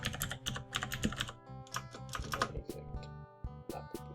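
Typing on a computer keyboard while setting up a Linux session, a quiet run of quick irregular key clicks in short bursts with brief pauses.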